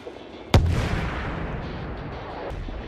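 A HIMARS rocket artillery launcher fires in one sudden, loud blast, followed by a long rumbling roar that slowly fades over a couple of seconds.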